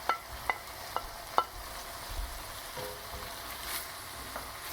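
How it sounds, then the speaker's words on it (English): Tomatoes sizzle in a hot osso buco pan, a steady frying crackle with a few sharp clinks and stirring scrapes early on, continuing as an even sizzle afterward. "Time to add my tomatoes."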